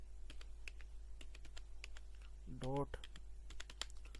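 Scattered computer keyboard key clicks tap out a web address in an irregular rhythm, quiet and close, while someone speaks briefly over a low steady hum.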